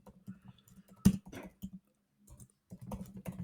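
Quiet, close typing on a computer keyboard while a prompt is entered into ChatGPT: bursts of key clicks with brief pauses and one louder clack partway through.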